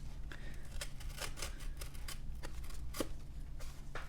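A blade slices open a cardboard box, giving a series of quiet, quick scraping strokes in an uneven rhythm, close by with a low hum underneath and no talking.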